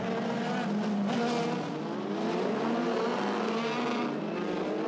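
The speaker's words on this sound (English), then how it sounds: "urging the warm into the tyres, really aggressively weaving and accelerating the car up towards the grid" Several Formula Renault 2.0 race cars at Silverstone weave and accelerate toward the starting grid, their engine drone loud and continuous, with overlapping whines rising and falling throughout.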